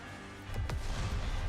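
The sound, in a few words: particle cannon blast in the video game Goddess of Victory: NIKKE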